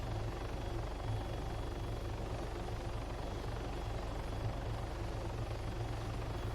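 A helicopter in a military video game drones steadily with a heavy low rotor thump and broad engine hiss, constant and unbroken throughout, with no voices.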